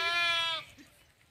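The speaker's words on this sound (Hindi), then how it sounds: "ये देखें और भेड़े, तो ये और हैं और किसी की हैं।" A sheep in a wire-fenced pen lets out one long, wavering bleat lasting about half a second, fairly close and clear, followed by quiet.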